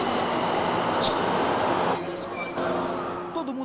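Loud, steady rumbling roar of a subway train running in the São Paulo metro, broadband and continuous with a slight shift partway through.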